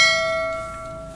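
A single bright notification bell chime rings out clearly and alone, then decays smoothly over about a second.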